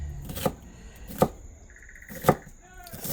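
A knife slices sweet peppers on a cutting board for braised oxtail, giving four sharp, separate chops about a second apart, close and moderately loud, with faint background noise between the strokes.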